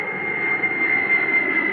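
Supertanker firefighting airplane engine, a steady loud jet-like roar with a constant high whine, continuous and close.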